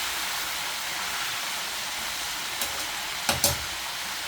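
Chicken frying in a pan gives a steady broadband sizzle, with a couple of sharper pops or crackles near the end.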